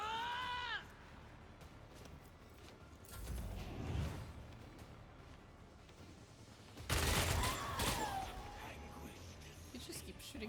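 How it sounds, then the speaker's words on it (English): Gunfire trades back and forth in the video game Warhammer 40k: Rogue Trader, two loud bursts of shots several seconds apart over quiet game ambience, with short voice-like game sounds in between. "You just keep shooting at each other"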